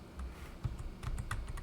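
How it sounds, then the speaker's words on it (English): A run of quick, close key clicks on a computer keyboard as a number is entered, irregular taps over a quiet room. "So in this box, we're going to type in 36."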